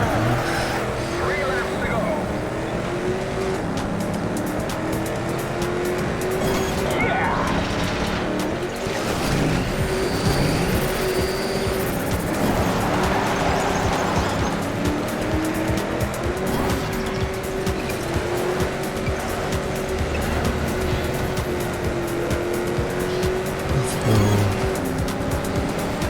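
In Trackmania Turbo, a race car engine drones steadily on dirt while the tires squeal and skid through long drifts, with a voice talking over it throughout.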